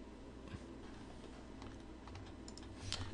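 Soft, rapid keystrokes on a computer keyboard as someone types a student discussion board reply, faint and close beneath a hissy room background, with a small burst of clicks near the end.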